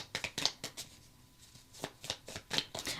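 Soft riffling and slapping of tarot cards being shuffled by hand, a run of quick papery flicks close by, a pause, then more brisk shuffling and a card being drawn.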